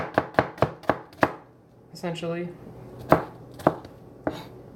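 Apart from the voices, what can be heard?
knife chopping small cabbage-like vegetables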